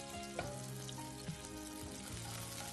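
Chopped onion cubes fry in a little oil in a pan, giving a dense, continuous sizzle that stays fairly faint and steady throughout, with a few soft clicks from utensils and no talking.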